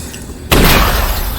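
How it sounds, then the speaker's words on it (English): Glass smashed with a gun in a VR video game: after a quiet moment, a sudden loud crash of breaking glass bursts out and lingers as a bright, scattering shatter. "there's some glass here. So I'll do what any good looter does and smash it with my gun."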